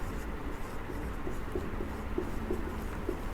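Chalk or marker scratching on a board during a Class 7 maths lesson, with short, faint strokes repeating at an irregular pace.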